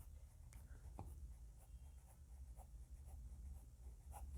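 Fountain pen scratching across Xerox paper, faint close strokes and soft ticks repeating irregularly over a quiet background.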